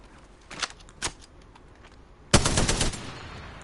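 Gunfire from a rapid-fire gun in the video game Apex Legends: two sharp single shots a half second apart, then a loud, dense automatic burst lasting about half a second, with no talk.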